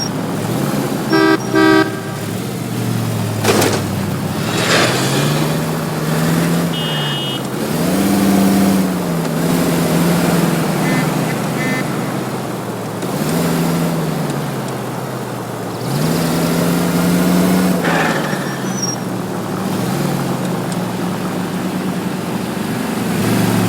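A car being driven in L.A. Noire, with an engine revving up and down in repeated swells and shifting pitch, a horn tooting early on, loud throughout.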